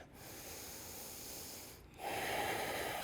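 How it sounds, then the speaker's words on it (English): Deep, forceful breathing during an Ashtanga yoga class, a close, airy nasal exhale followed after a brief pause by a louder, rushing inhale, heard alone without talk. "deep breathing, chest open"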